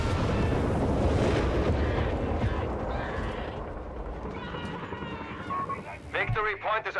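Nebelwerfer rocket barrage in Company of Heroes 3 striking an anti-tank gun position: a dense, roaring rumble that is loudest at first, then fades, with a voice talking over it.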